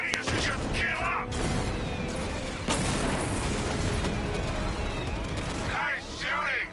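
Dense video game gunfire and booming explosions roll on almost without pause, loud and close, with voices cutting through near the start and end.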